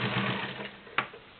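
A vintage Kenmore Model 1753 1.2-amp cam sewing machine stitches through three layers of garment leather, a close, steady rapid whirring run that ends in a sharp click.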